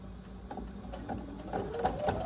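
A sewing machine stitches a quilt at a steady rapid patter, fairly quiet and close, running continuously throughout.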